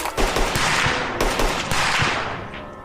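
Rapid automatic gunfire from a Fallout-style firefight in the snow, loud and close, with dense bursts of shots and sharp individual cracks running continuously over about three seconds.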